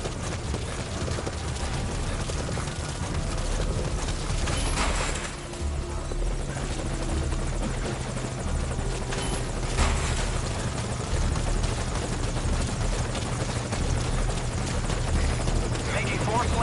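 A helicopter in the video game Metal Gear Solid V Ground Zeroes thrums steadily and loudly throughout, a continuous rotor roar with voices talking over it.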